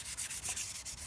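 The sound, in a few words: hand sanding oiled wooden sculpture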